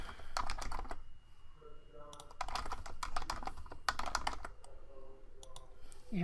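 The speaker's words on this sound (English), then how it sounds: "we're going to type a password" Someone typing a password on a computer keyboard, heard as close, crisp clusters of rapid key clicks in several bursts separated by brief pauses over a quiet room background.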